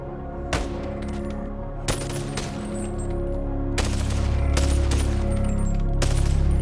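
Rapid pistol gunshots fired in the VR game BoneLab, a loud series of sharp cracks in irregular bursts over a steady droning game background, growing denser toward the end.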